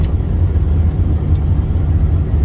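A Ford XH Falcon on a test drive hums along with a steady, fairly loud engine and road rumble from inside the car, broken by a single brief squeak, with no voices.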